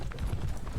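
Horses in the Thirty Years War strategy game, at the Battle of Breitenfeld, give a brief burst of hoof clip-clops: a few quick, muffled, rhythmic knocks lasting under a second.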